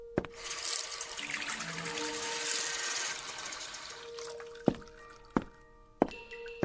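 Water splashes steadily from a running tap or stream for a few seconds as a radio drama effect, followed by several distinct drips plinking close by.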